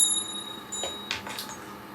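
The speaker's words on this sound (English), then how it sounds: "Here's my bell." A hand bell rings out with a lingering high metallic tone, then a few brief jingles follow close by with no voices.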